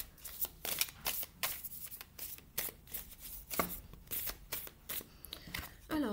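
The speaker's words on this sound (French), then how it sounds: "j'ai les cartes qui sont un petit peu épaisses ici, donc pour les mélanger, c'est pas très pratique" Thick tarot cards shuffled by hand, a run of rapid, irregular riffling and slapping bursts repeating steadily, close but fairly quiet, with a faint voice briefly present.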